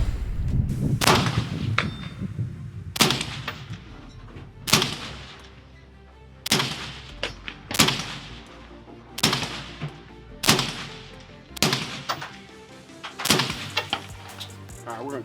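Suppressed gunshots from firearms fired through a DuraMag suppressor, about nine sharp reports spaced one to two seconds apart, loud and close, with brief ringing decay after each.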